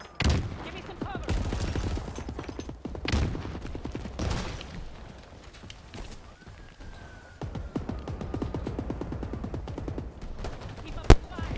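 Heavy gunfire in a chaotic video game firefight against a Brute inside the Ring, with repeated bursts and sharp single shots going on nearly the whole time and a loud crack near the end.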